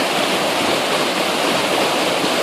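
Steady, dense roar of a waterfall, close and loud throughout with no breaks, broadband rushing water filling the whole clip.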